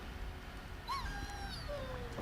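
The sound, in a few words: dog (warhound) whimpering, from the video game Dragon Age Origins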